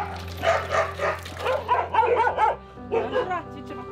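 Several dogs bark and yip in quick bursts at a dog shelter, close and loud, with short pauses between volleys and a low hum in the background.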